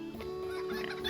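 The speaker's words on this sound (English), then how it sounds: "Pigs, some fences, goats, agitated chickens" Agitated chickens clucking in the video game LOTRO, a short stretch of fairly quiet, close clucks over a steady tonal hum.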